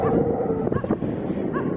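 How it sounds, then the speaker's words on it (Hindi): Dogs yip and whimper along a roadside, challenging a cyclist as he rides past; short barks and whines come in quick bursts over steady road and wind noise. "ये कुछ कुत्ते मुझे ललकार कर मेरे रास्ते को रोकने की कोशिश कर रहे थे।"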